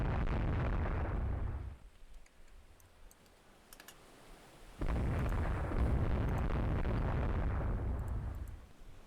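Naval gunfire and shell hits on a ship in the Rule the Waves 2 warfare game: two dense, loud bursts of rumbling impact noise, the first fading out after about two seconds, then a quieter lull before a second sustained roar.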